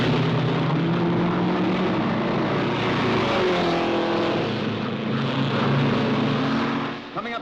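Racing cars roaring around the track during a long-distance road race in the 1950s, a dense, loud, continuous engine drone with overlapping revving pitches as several cars pass close by.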